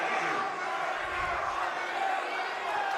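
Rowdy student crowd at an NJCAA junior college basketball game between USU Eastern and Snow College, a steady dense roar of cheering and shouting throughout, with a broadcast commentator talking over it.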